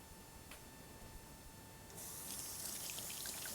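Kitchen tap water running steadily as hands are rinsed at a sink, a soft hiss that swells louder midway through and continues as a close, even stream with no talking.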